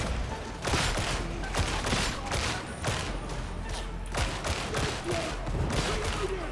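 Rapid gunfire from the game Warhammer 40,000: Darktide, dense bursts of shots repeating throughout over a constant low rumble of combat noise.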